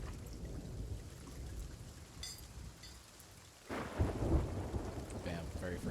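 Heavy rain hisses steadily through a storm at sea in Sea of Thieves, then a loud close thunderclap booms and rumbles, with a faint voice in the background.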